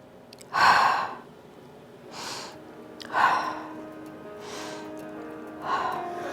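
Slow, deep breaths during a Pilates mat stretch: several audible inhales and exhales spaced about every second or two, close and fairly loud, with no talk over them.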